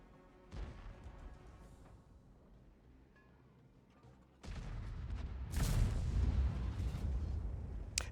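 Artillery fire from a self-propelled gun in World of Tanks, a sharp boom at the start followed by a louder blast and rumbling impact later, heavy and booming with no voices.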